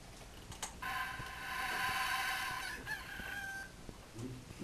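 A rooster crowing in one long rising-then-falling call of a few seconds, moderately close, set over a faint background hiss with scattered light clicks and no talk.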